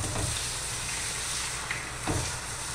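Four beaten eggs hiss and sizzle gently in a frying pan as they are scrambled for migas, a steady soft frying sound broken by a couple of stirring scrapes, with nobody speaking.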